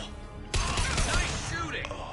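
Gunfire from a firefight in the video game Mass Effect 2, a sudden loud burst of overlapping shots erupting after a brief lull and continuing as a dense, roaring volley before easing slightly.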